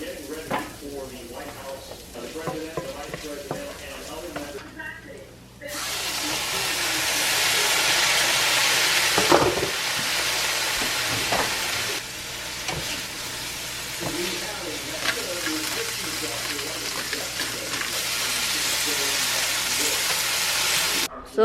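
String beans cook in a hot pan on a home kitchen stove, giving a loud, steady sizzling hiss. The hiss starts a few seconds in and continues without a break, with some talk and kitchen noise heard before it.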